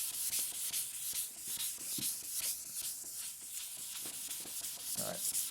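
A power sander works over a finish in a workshop, giving a steady, close scuffing whir with rhythmic rubbing strokes and a few brief louder contacts throughout.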